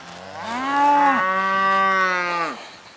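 A registered Red Angus cow on a beef cow-calf farm gives one long, loud moo that rises, holds steady with a rich, buzzy tone, then falls away, heard up close and alone.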